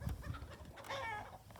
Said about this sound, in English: my sister's trying to catch a chicken, that's why you hear that